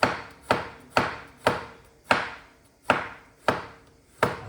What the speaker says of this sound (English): I'm just going to slice the chilli